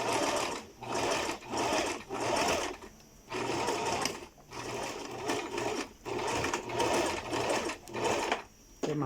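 A sewing machine stitches a skirt seam near the zipper in rapid motor-driven bursts, running for a second or two, pausing briefly, then starting again, close and loud.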